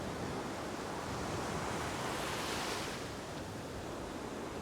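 Ocean waves break on a beach during fishing with a constant roaring wash of surf, broad and loud, swelling slightly near the middle, with no voices.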